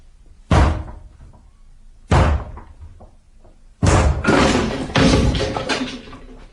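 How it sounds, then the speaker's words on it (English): A door being broken down in a radio drama: heavy slams and thuds land against it in separate blows, then come in quicker succession as it gives way, loud and close with no talking. "I'm going to break the door down, or rather we are"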